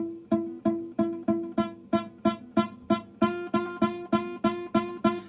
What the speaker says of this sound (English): Kind of buzzy, and we don't want buzzy sounding frets.